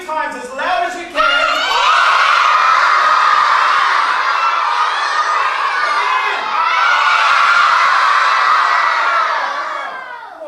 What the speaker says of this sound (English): I want you to yell out 3 times as loud as you can.